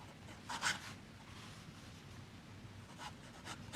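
A Montblanc 146 fountain pen with a fine nib scratching across paper, faint close strokes in a few short bursts over a low steady hiss, no voices.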